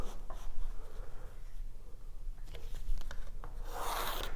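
A pencil or marker drawn along a one-metre ruler, marking a line for a cheap hydroponics tray, a scratchy rubbing stroke close by with short taps and a louder scrape at the end.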